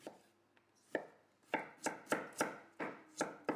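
A knife slices ginger into matchsticks on a cutting board, starting with a few scattered cuts and then settling into a steady run of crisp, close knocks, with no voices.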